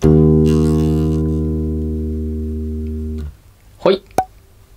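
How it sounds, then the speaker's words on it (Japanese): An E flat plucked on the D string of a bass guitar sustains for a little over three seconds and is then damped, followed by a brief spoken voice. "E フラットの音になります。"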